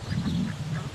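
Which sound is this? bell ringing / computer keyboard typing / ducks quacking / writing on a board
ducks quacking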